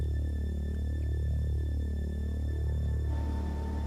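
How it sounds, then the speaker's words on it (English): A 500 MW power station generator, its rotor turning at 3,000 revolutions a minute, gives a loud, steady electrical hum with a slow rhythmic throbbing, and no voices. "The orange machine is the generator."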